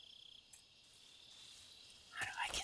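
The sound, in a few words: frog croaking in the video game Metal Gear Solid 3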